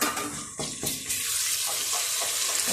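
Ginger garlic paste hits hot ghee over lightly golden fried onions and bursts into a loud, close, spattering sizzle that settles into a steady hiss.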